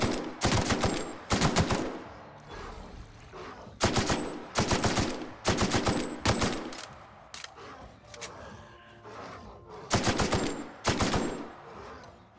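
Assault rifle gunfire in The Outer Worlds, loud bursts of rapid automatic shots in several clusters separated by brief pauses, close and dominant with no talking.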